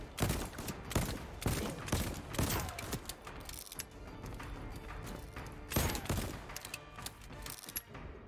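Gunshots in the video game Voidtrain, a string of loud sharp reports in irregular bursts, some spaced apart and some in quick clusters, with no talking.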